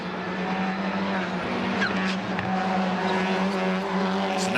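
Race cars at a Labour Day sprint race at Canadian Tire Motorsport Park, engines droning steadily as they downshift into a turn, a continuous loud roar of several cars together with pitch shifting through the gear changes.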